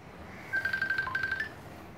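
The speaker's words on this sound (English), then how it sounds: "Oh, somebody's phone." A mobile phone rings in a room with a short run of rapid electronic beeping tones, clear and fairly close, with no talking over it.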